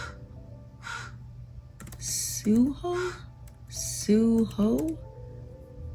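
Several harsh, loud crow caws ring out close by in short bursts, some of them doubled, over a low steady hum and scattered faint clicking.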